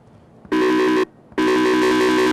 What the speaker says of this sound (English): Definitely the phone ring.